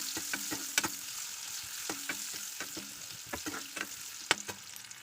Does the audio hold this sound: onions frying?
yes